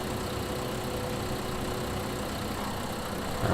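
A farm vehicle engine idling in Farming Simulator 2015, a steady low droning hum with no change in pace, ending with a slight rise in level.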